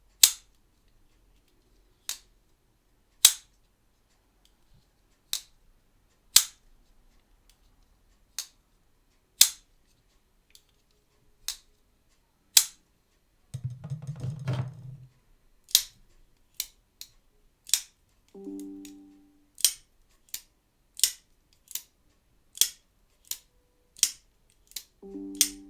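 Folding knives, including a Mad Tanto, snap open again and again with sharp, crisp clicks and thuds at an uneven pace. A short low rumble comes midway and brief tonal bursts sound near the end.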